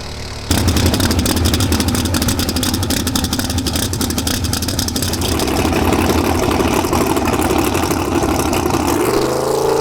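A loud, close drag car engine idles roughly and steadily with a rapid ticking clatter that may come from the valve train, and a low hum shifts slightly near the end.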